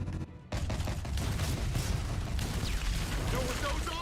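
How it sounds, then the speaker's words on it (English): A Tommy gun firing in the video game Telltale Batman, a sudden dense roar of rapid automatic fire and heavy rumble after a brief quiet opening, loud and continuous, with a voice talking over it. "Not the Tommy gun!"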